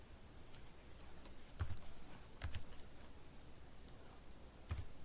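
A computer keyboard is tapped in a few sparse, separate keystrokes, soft and close, with quiet room hiss between the clicks and no talking.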